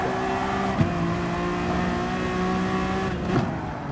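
Honda NSX GT3 race car in GT Sport, engine droning steadily with gear-change blips and a brief rev flare near the end, loud and alone with no talk.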